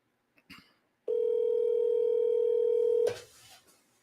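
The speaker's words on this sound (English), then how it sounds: "let's see if he picks up the phone." An outgoing phone call to a seller: a couple of faint clicks, then a single steady ringback tone held for about two seconds before cutting off with a click.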